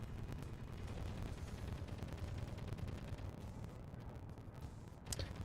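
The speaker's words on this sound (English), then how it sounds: "And we're shooting at something." Muffled gunfire rumbles in Space Engineers as a ship's weapons fire continuously, a dull low thudding barrage that stays fairly quiet and distant, ending with a sharper crack.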